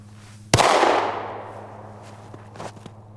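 A Glock V pistol, fired one-handed and left-handed during a 1000-round torture test, lets off a single sharp, loud shot that rings away, followed by a few faint metallic clicks.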